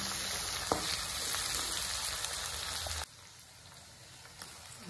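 Onion, chili, ginger and garlic sauté in a pan with a loud, dense sizzle that drops suddenly to a quieter crackle partway through.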